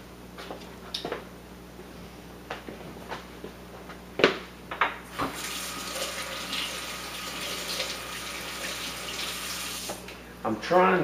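A kitchen tap runs to wet a wooden clown carving, steady splashing water starting partway through after a few soft knocks and handling sounds, with faint talk in the background.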